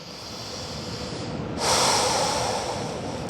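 A deep breath drawn during a yoga stretch, a soft airy hiss that swells into a fuller, louder exhale midway and then fades out gradually.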